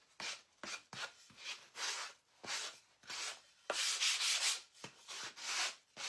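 Light hand sanding over a wooden angel cutout from Craft Dealz: a run of short, close rasping strokes in quick bursts with brief gaps, some longer and more sustained.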